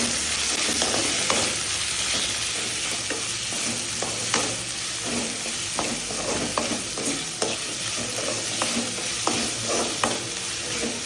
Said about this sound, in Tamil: தக்காளி வதங்கிருச்சு.